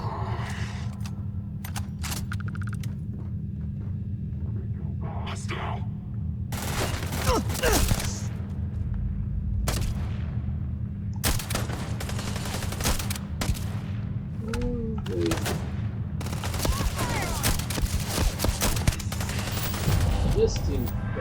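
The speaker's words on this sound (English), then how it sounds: "I'm getting shot at from all sides" Gunfire crackles in a sci-fi firefight in Starfield, with repeated bursts and sharp shots coming from several directions, loud and irregular over a steady low background hum, while a voice talks intermittently.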